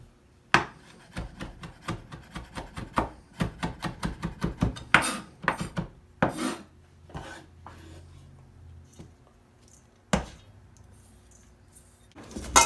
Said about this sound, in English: I'll add a little bit of rosemary to it. I'll give it a good chop.